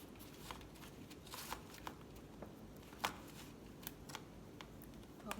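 Pipe cleaners twisted and folded around the center of a small Dollar Tree bamboo wreath, giving soft close-up rustles and scratchy fiber crinkles with a few sharper clicks, quiet and intermittent with no talking.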